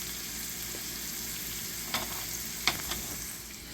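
Mushrooms fry in a pan with a steady low sizzle, broken by a few soft scraping stirs and light clacks of a utensil against the pan.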